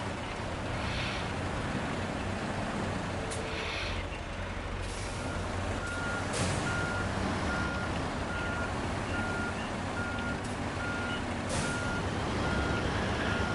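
A truck reverses in the SnowRunner video game, with repeated evenly spaced reversing beeps over a loud, constant engine rumble and occasional hissing bursts of air.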